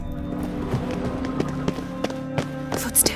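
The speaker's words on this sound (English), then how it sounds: "Footsteps." Footsteps in The Witcher video game, a series of distinct hard steps at an uneven walking pace over a low ambient music bed, with a brighter clack near the end.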